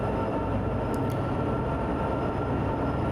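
A long intermodal freight train in Train Sim World 2 on Sherman Hill begins to roll, a steady loud low rumble and rail noise filling the whole stretch, with a faint high squeal briefly near the middle.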